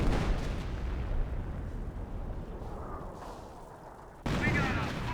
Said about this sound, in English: Double barrage raining on in.